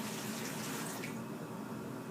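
Water pours from a container into a microgreens growing tray of moist soil, a steady splashing trickle that runs continuously and fades slightly toward the end, with no talking.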